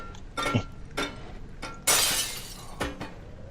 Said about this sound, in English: I have broken glass.